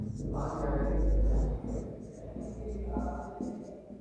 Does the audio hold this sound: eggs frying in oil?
no